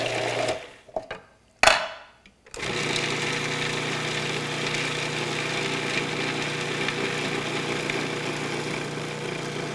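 A Cuisinart food processor blends mint pesto with a steady, loud motor whir, after a few brief stops and restarts at the start, then runs continuously.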